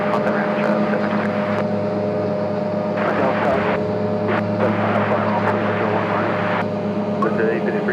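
A Boeing 777 airliner lands on runway 1 right with a loud, steady roar and droning tones that hold for the whole stretch, with voices faint underneath.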